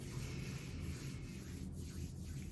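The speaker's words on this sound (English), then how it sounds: "bringing the hands to a slower rub" Palms rubbing together slowly during a guided meditation, a steady soft broadband friction hiss that continues without pause, close and moderately quiet.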